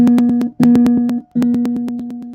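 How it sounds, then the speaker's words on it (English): The C string of a ukulele plucked three times, a clear mid-pitched note that rings and slowly decays each time, loud and close. "If you're on C, your C string should sound like this."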